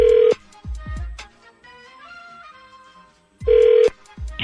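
Telephone ringback on an outgoing call, two tone bursts at the start and end with music playing in between, fairly loud and without speech.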